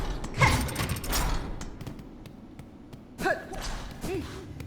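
Door opening in the Silksong video game, with two bursts of creaking, grinding mechanism noise about three seconds apart and faint clicks in between.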